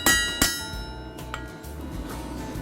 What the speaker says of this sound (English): Once he's made the point, he hammers it into a perfect scroll.